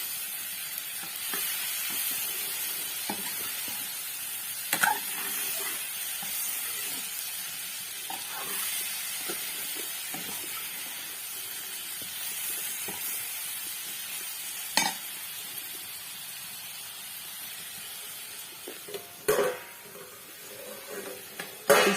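Vegetables, including bitter gourd, fry with a soft continuous sizzle in a pot on a wood-fired chulha, punctuated by scraping stirs and occasional clinks, with no voices.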